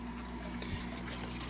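An aquarium drain pipe in a fishroom gurgles steadily, a close, continuous watery rush with a low hum underneath and a brief deeper glug partway through.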